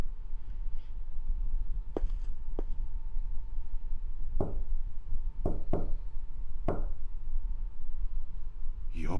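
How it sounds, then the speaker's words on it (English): Knocking on a door in the Chaos;Child video game: a series of sharp, evenly spaced raps over a steady low hum, clear and fairly close. "the knocks were too steady for that"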